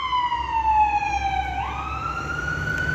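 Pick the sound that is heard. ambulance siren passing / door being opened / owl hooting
ambulance siren passing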